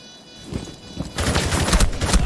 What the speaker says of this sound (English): Coffin though, free firing through the wall, trying to get a lucky wall bang.